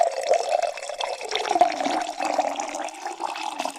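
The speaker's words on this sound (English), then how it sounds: "May sound a little different pouring it." Liquid pouring steadily over ice in a glass, a continuous bubbling, trickling stream with small clinks and splashes, close and alone for several seconds.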